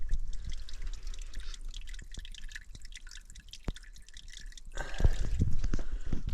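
Small stream of water trickling and dripping steadily into bottles at a hillside water source, close and continuous, with a louder splashing gush near the end.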